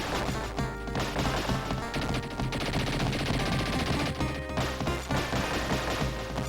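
Enemies in TMNT Hyperstone Heist fire rapid bursts of retro video game gunfire, dense and continuous, mixed with crashes and hits under loud game music.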